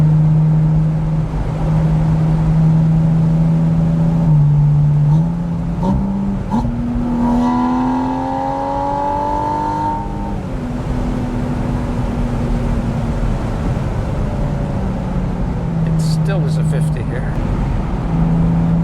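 Porsche Spyder engine held in manual mode as it accelerates, a loud droning tone climbing in pitch, dropping at gear changes, then rising again, with people talking over it inside the car.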